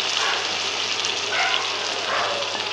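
Marinated quail meat frying in a pan gives a steady, close sizzle with bright crackling throughout and a few louder spitting bursts.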